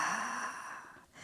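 A single soft exhale through the nose or mouth during a bridge exercise for the hips and spine, a gentle breathy sigh that fades out within about a second, quiet and alone.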